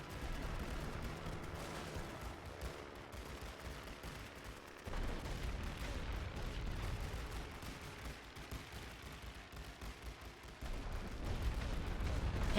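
Dense, continuous gunfire and artillery rumble from the World War I trench game The Great War: Western Front, with many machine guns firing together and heavy explosions, loud and sustained throughout with no talk.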